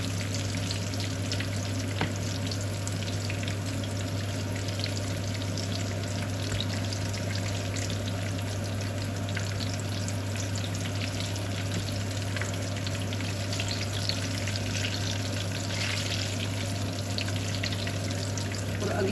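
Chillies stuffed with keema and potato fry in a pan with a loud, steady sizzle and crackle that runs unbroken throughout, with no voices.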